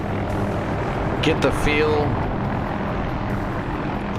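Helicopter in a video game flight simulator, a steady loud rotor and engine drone filling the background while someone talks briefly over it.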